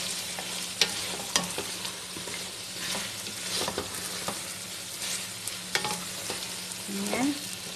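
Vegetables fry in a pan with a constant close sizzle, while a utensil stirs and scrapes with scattered clacks and knocks against the pan.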